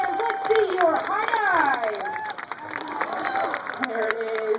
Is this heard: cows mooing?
no